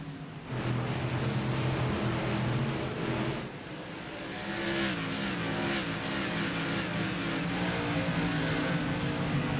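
Modified series race cars roar through a restart at New Smyrna, a dense, loud wall of engine noise that surges and drops briefly before building again, with rising revs and tire noise and no voices.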